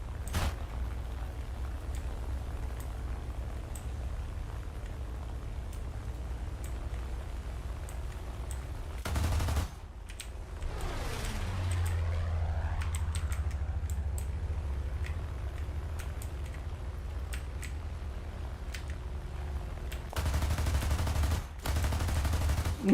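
Aircraft machine guns firing in War Thunder, in short bursts near the start, middle and end, set against a steady engine drone with a sweeping pitch change partway through.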